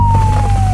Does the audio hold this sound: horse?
no